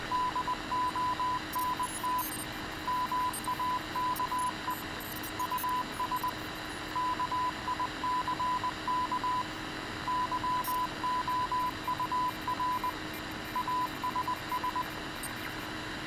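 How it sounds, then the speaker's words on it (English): Creepy radio noise and static from an easter egg in Halo, a steady hiss with intermittent beeping tones repeating in bursts throughout, carrying on alone for a long stretch. "Just a bunch of radio noises, stuff like that"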